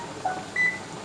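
An oven being set to preheat to 375 for pan lasagna gives two short electronic beeps, the second higher and longer, clear over quiet kitchen hum.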